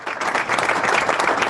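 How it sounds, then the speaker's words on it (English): Steady, dense round of applause from an audience, many hands clapping continuously and fairly close with no talk over it. "We just gave you a round of applause right here."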